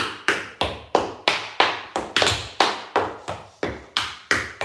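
Tap shoes strike the floor in a brisk, steady run of about fifteen sharp, close metallic taps during an open tap dance class, evenly spaced with a few quicker doubles, each ringing briefly and decaying, with no voices over them.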